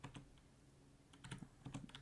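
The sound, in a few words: typing on a computer keyboard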